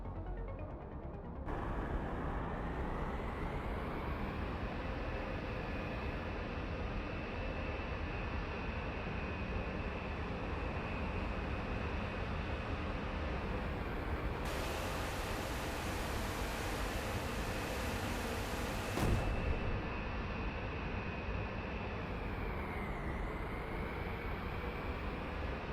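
Bomber aircraft fly into an attack in the video game Carrier Command 2, with a continuous, even engine drone and wind-like rush that holds steady throughout.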